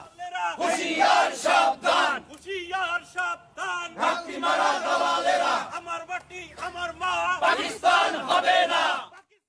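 Crowd of education officials loudly chanting protest slogans in unison, rhythmic bursts of shouted voices rising and falling throughout, close and dense.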